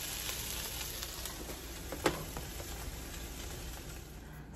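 Breakfast food sizzling quietly in a frying pan, a steady soft crackle with one brief louder pop partway through, no voices.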